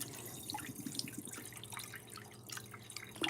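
Rinse water is poured off washed grits, a faint, continuous trickle with scattered small drips and splashes, heard close and quiet with no talking.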